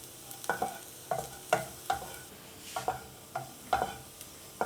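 Garlic fries in a pan on a low gas flame while a spoon stirs it steadily, regular scraping clinks over a soft, continuous sizzle, close and without talking.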